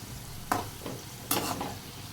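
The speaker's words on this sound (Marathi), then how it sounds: "me French fries तळतोय" French fries fry in hot oil with a continuous close sizzle, broken by two sharper bursts of crackle as the pieces are moved.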